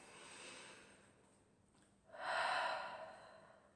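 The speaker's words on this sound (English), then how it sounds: "sit there, take a big breath" A single deep, audible breath is drawn in during a calm EFT tapping exercise. A softer breathy stretch comes first, then a louder, fuller inhalation rises about halfway through and holds to the end, close and clear with no talking.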